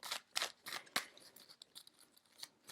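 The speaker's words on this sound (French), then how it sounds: "Je vais aller sortir une autre carte" Tarot cards being handled and drawn from a deck, a quick series of crisp, close shuffling and snapping flicks in an irregular rhythm, with no talking.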